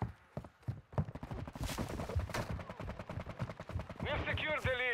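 Rapid bursts of gunfire in Call of Duty Modern Warfare II, sharp staccato shots cracking in quick succession, loud and close, with a voice talking between and over them.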